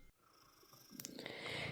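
Presley, a pet cat, purrs softly and close, a low rumbling stream that starts faint and grows fuller and louder toward the end.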